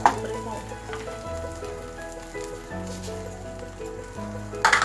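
Fava bean usri with sugar roasts in a pan, giving a steady soft sizzle broken by scraping stirs, including a louder clatter at the start and end, with no talking.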